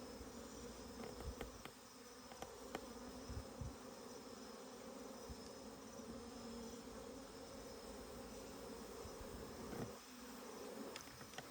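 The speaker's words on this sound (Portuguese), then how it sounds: "Muita abelha, pessoal." A swarm of bees inside a hollow tree trunk during a morning rescue, giving a steady, dense buzzing drone that fills the whole stretch without pause, fairly close and even in level.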